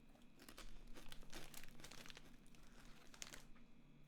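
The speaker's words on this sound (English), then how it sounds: "Sorry, I'm getting another bag of crisps." A bag of crisps crinkles and crumples in repeated bursts for about four seconds, close to the microphone, with short bright rustles spread through it.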